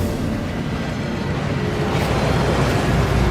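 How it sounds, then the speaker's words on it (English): Steady rushing water from a waterfall guarding a Gringotts vault in Hogwarts Legacy, a broad continuous roar at even loudness throughout with no voices. "That waterfall washes away all enchantments."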